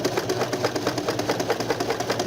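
A sewing machine running steadily as it stitches a reinforcement seam on the crotch of trousers, a continuous close mechanical whir with a fast, even stitching pulse and no talking.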